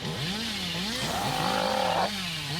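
A video game chainsaw revs up with a wavering, buzzing engine tone that rises and falls, loud and continuous, with a higher whine briefly layered on top.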